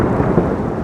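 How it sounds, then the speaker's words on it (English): A thunder sound effect from Krotos Studio, a loud, dense low rumble rolling continuously without pause over a short stretch. "Unleash the Thunder"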